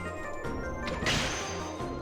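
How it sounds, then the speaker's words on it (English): Glass breaking in the video game Zelda: Wind Waker, a bright crashing burst layered over steady game music and ambient tones. "you hear the glass break"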